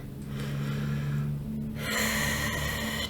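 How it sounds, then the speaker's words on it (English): A deep breath during a guided meditation, a long audible inhale followed by a fuller, breathy exhale, close and fairly loud over a soft steady background hum. "take a deep breath"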